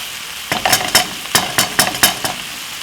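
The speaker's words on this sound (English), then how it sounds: "So we're going to brown off the mince like this." Beef mince browning and sizzling in a hot pan, stirred in a series of sharp scraping bursts over a steady frying hiss, close and fairly loud.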